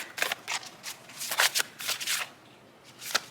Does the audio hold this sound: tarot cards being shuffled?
yes